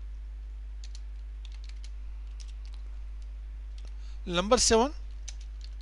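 Soft, sparse keystrokes on a computer keyboard while typing in Notepad, faint clicks scattered across the moment, with a brief spoken phrase near the end over a steady low electrical hum.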